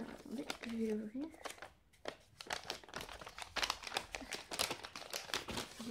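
Wrapping paper and plastic crinkle and tear as a gift package is opened up close, bursts of rustling and crumpling in quick irregular runs, with a person briefly talking near the start.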